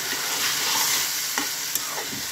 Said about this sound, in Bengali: তারপরে মিডিয়াম টু হাই হিটে এটাকে ভাজি করছি।